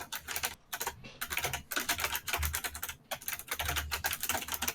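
Rapid, continuous clatter of computer keyboard keys being typed on nearby, with brief pauses between bursts of keystrokes and no voices.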